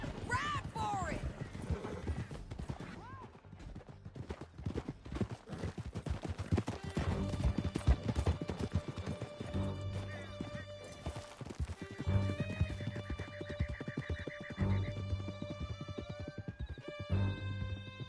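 Horses galloping with rapid hoofbeats and whinnies while riders flee through a canyon in Red Dead Redemption 2, with gunfire, music and voices over the continuous clatter.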